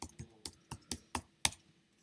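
A computer keyboard clicks as a Google search is typed: about eight crisp, evenly spaced keystrokes, close and clear, with one sharper final tap and no talking.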